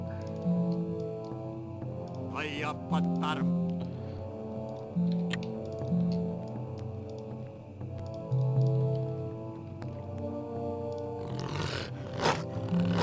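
A spirit wolf in the video game The Iron Plague lets out growling, roaring bursts over a steady tonal game soundtrack with ticking effects, loud and synthetic in character.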